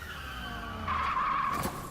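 A car braking hard, its tires skidding in a sharp squeal that swells for about a second and then cuts off, heard clearly over a quiet background.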